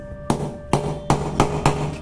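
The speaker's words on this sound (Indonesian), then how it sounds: "Lalu kita pukul pakai palu." A hammer strikes a sharpened screwdriver five times in a steady rhythm, each blow a sharp close metallic clank with a short ringing tail; no talking.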